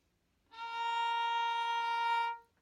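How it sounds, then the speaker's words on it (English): A single sustained bowed violin note, B flat on the A string, steady and clear, held for about two seconds in a quiet room before stopping. "your B flat on the A string is gonna sound like this"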